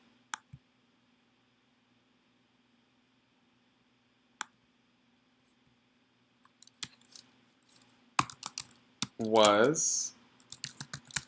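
Scattered clicks from a computer keyboard, at first a few sparse taps over a quiet hum, then a denser burst of keystrokes near the end broken by a short spoken word.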